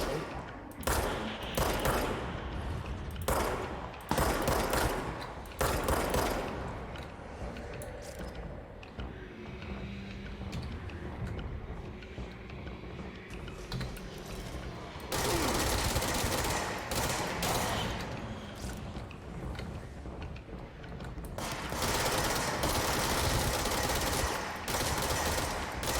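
Gunfire in the video game Control: repeated bursts and rapid volleys of shots, loud and dense, clustered at the start, the middle and the end, with quieter stretches between and some game sounds under them.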